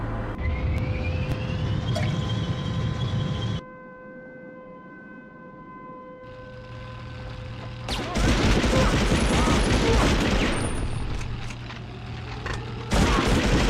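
A grenade goes off in the World War II shooter Medal of Honor Underground as a broad, rumbling blast midway through, surrounded by a wailing air-raid siren, scattered gunfire and a steady droning background, with a second burst near the end.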